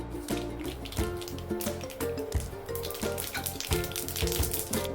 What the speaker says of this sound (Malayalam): വെളിച്ചെണ്ണ ചൂടായി വരുന്ന സമയത്ത് ഇതിലേക്ക് 1 ടീസ്പൂൺ കടുക് ഇട്ട് കൊടുക്കാം.